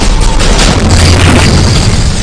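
Rocket fire explodes in a WWII mountain battle: a very loud, continuous rumbling boom with crackling bursts, close and overwhelming, with no voices.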